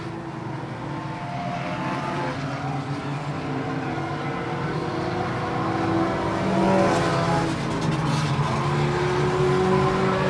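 Enduro race cars roar down the back straight of an oval track in a steady, loud, sustained engine drone, several cars running close together with the pitch rising slightly as they pass.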